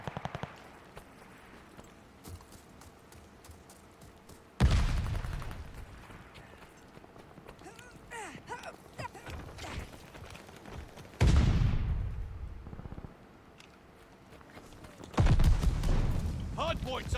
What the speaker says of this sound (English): Hard point's under fire.